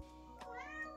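A small kitten gives two short, thin meows close by, with a quiet background and no talking.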